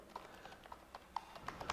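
Soft, light keystrokes on a computer keyboard, about eight scattered taps over a couple of seconds, quiet and close with no talking.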